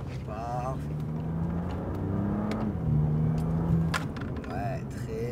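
A BMW M2 Competition on the Dreux race circuit, its engine a steady low drone that swells slightly as it re-accelerates, with a voice talking over it.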